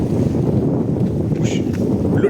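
Steady evening wind buffets the microphone on a small fishing boat out on the water, a loud continuous low rumble with faint splashes and no clear talk.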